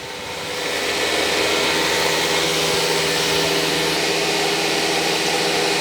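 An automatic labeling and loading machine measuring a drill bit gives off a loud, steady broadband whir and hum that ramps up in the first second and then holds constant.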